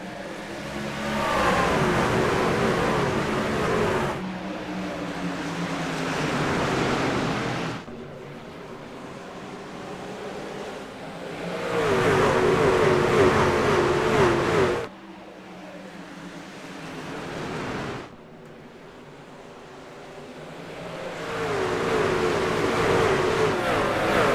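Race truck engines roaring at Richmond in the iRacing video game, loud sustained revving that swells and drops in several long waves as trucks pass and accelerate, with no talk.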